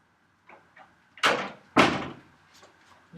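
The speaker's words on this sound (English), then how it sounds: "You just shut the door." A classroom door shuts: a few light clicks of the handle, then two firm thuds in quick succession, fairly close, with faint rattles trailing after and no talking.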